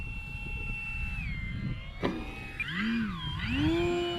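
A small airplane making a no-flap landing in a crosswind bounces on the runway and powers up to go around, its engine droning steadily before a sharp thump and then a rising, wavering engine tone.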